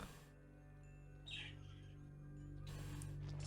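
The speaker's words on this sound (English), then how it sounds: "Right, turn into a real bird." Birds in the Morpheus video game, a faint chirp or two over a steady low electronic hum and soft background tones, without any voices.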